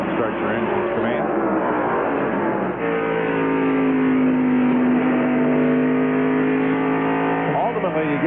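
Several NASCAR Craftsman Truck Series engines at the 1996 Cummins 200 at IRP fire up and idle together, a loud, continuous, steady engine drone that swells slightly partway through, with no voices over it.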